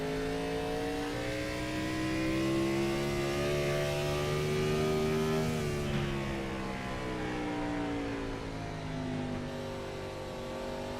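Race car engine on the Richmond Raceway oval in iRacing, a Gen 4 series stock car, droning loud and steady with the pitch sliding up and then easing down as it laps, no voices.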